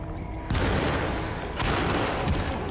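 Gunfire from a handgun in the 2024 horror video game Alone in the Dark, set in a crypt, with two or three sharp, loud shots standing out against a dense, noisy game backdrop.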